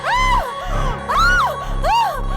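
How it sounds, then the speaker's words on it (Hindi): A woman named Sophie screams in loud, rising-and-falling wails, three long cries close to the listener in a horror drama, with no other voices over them. "सोफी चिल्ला क्यों रही हो तुम?"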